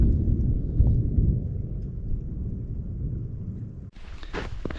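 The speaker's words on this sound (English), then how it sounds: "Thunder all around." Low rolling thunder during a building storm near Chilnualna Falls in Yosemite, a long deep rumble that fades out, followed by a brief sound of handling noise.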